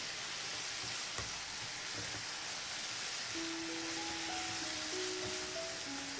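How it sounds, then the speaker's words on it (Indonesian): Bean sprouts, tofu and scallions sizzle steadily in a pan during stir-frying, a soft continuous hiss with occasional stirring scrapes and a faint tonal hum in the background. "Terakhir kita masukkan daun bawang, lalu aduk kembali, masak sampai daun bawangnya agak layu."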